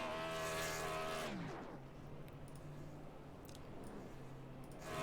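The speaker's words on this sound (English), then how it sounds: "The 28 doing some sick burnouts." Race car doing burnouts in the iRacing sim at a super speedway, a loud engine roar that drops away and settles into a steady rushing tire and engine noise; no talk.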